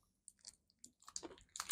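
Close, quiet crunching of a Turkish snack being bitten and chewed, irregular crisp snaps building in loudness over a near-silent background, with no talking.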